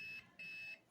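A digital multimeter set to continuity gives two steady electronic beeps, a short one then a longer one, close up and clear while testing the terminals of an LED ceiling light switch.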